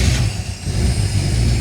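A fuel-injected Buick 350 V8 runs on an engine dyno just after starting, a steady loud low rumble with a brief dip before settling into an even idle.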